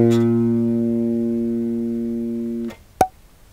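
A bass guitar plucks a single A note on its G string; the round, close tone holds and slowly fades for nearly three seconds before a damping click ends it, with no voices.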